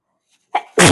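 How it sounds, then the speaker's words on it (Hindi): A single sharp, loud sneeze comes up close in a home kitchen, with a short intake just before it and the burst itself at the end. "छींक आ गई थी भाई।"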